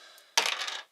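Dice for the tabletop board game Shadow of Brimstone, rolled together in a single sharp clattering burst that rattles briefly and stops.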